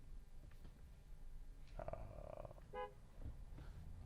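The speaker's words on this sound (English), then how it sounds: "I wish there was something a little more polite than honking the horn" A car horn gives a short, muffled honk in traffic: one brief toot rises faintly over a low engine hum, then a second quick blip follows, both soft and distant with no voices.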